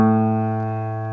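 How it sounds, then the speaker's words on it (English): A single low, steady synthesized musical note A sustains for about a second, rich in even harmonics and fading only slightly. "But sometimes an A can sound like this."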